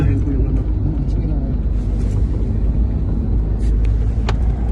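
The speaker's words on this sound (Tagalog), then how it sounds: "Yan po yung mga sasakyan na nakasunod" Cars in a convoy rumble along a road in the Philippines, a steady close engine and road drone with occasional hiss and brake noise beneath a voice talking throughout.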